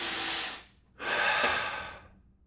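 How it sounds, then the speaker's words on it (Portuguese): Slow, deliberate conscious breathing heard close up: one breath fades out, then after a brief pause a longer, airy breath swells and trails off. No talking. "Aí tu pode respirar conscientemente."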